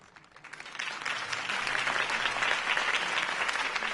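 Applause from a crowd at a political campaign rally in the Batman Telltale video game swells from quiet to a dense, steady clapping that fills the space and holds without voices over it.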